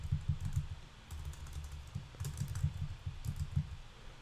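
Rapid keystrokes on a computer keyboard while code is entered, a steady run of close, soft clicks with brief pauses and no talking.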